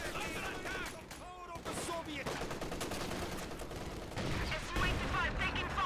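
Rapid game gunfire rattles against an SU-85 tank destroyer in Company of Heroes 2, with dense bursts of shots and impacts running throughout over a busy battle backdrop.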